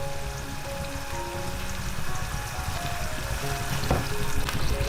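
Green vegetables blanched in a pot of boiling water with a little oil and a spoonful of salt, a steady close bubbling and sizzling hiss that runs without a break and no talk.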